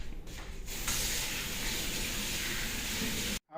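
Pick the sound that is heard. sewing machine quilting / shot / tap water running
tap water running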